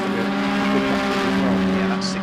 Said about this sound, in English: The yellow car just heading through shot there, leading the class.